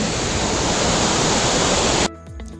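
Water pours loudly over a concrete irrigation drop structure in a canal, a dense steady roar that cuts off abruptly near the end, leaving quieter faint background sounds.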